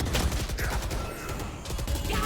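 Shotguns and other weapons fire during a competitive video game match, a dense barrage of blasts and rapid gunfire cracking over each other under a busy, noisy mix.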